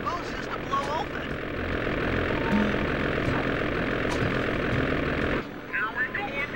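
Ice plane engine in the video game Sly Cooper 2: a loud, steady droning engine roar that holds for about five seconds, then cuts away to quieter game sounds.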